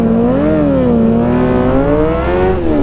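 Motorcycles accelerating hard in a race to a white line: a loud, steady engine roar with a rising and slightly wavering pitch, close up and continuous, with no talk.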